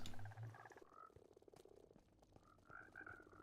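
Minecraft frogs on a Skyblock farm croak in a run of short, tonal calls, some deep and low, others higher and chirpy, with irregular spacing and fairly close presence throughout.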